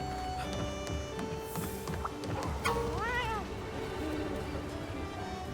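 A cat meows in the game Monster Hunter Rise: Sunbreak, a short rising-and-falling call that stands out over steady game music and background sound.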